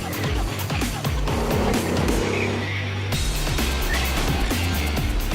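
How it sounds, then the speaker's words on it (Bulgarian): Go-karts race down the final straight of a karting track, a dense, continuous engine roar with buzzing passes and faint tire noise, loud and sustained throughout. "Това се казва да прелетиш през финалната права."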